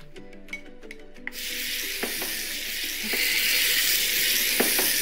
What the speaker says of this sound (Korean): 볶으면서 약간 졸여줍니다.